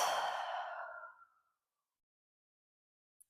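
A single deep exhale during a yoga session, breathy and close, fading out over about a second and a half into silence.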